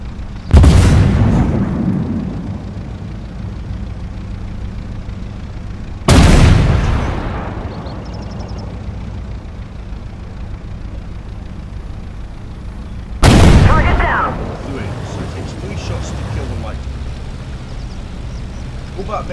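Three heavy tank cannon shots in the Armoured Warfare video game boom out several seconds apart, each a sharp, loud blast trailing into a rumbling decay, with a low background hum between them.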